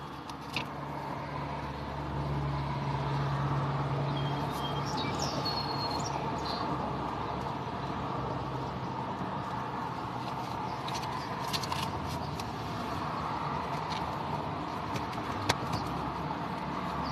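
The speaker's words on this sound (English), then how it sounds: "Gotta love that Syracuse traffic." Street traffic in Syracuse hums as a steady, fairly distant wash of passing cars, with a few faint bird chirps over it and no talking.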